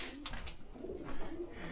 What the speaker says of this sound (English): like really stupid pigeons